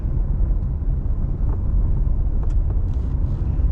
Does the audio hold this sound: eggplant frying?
no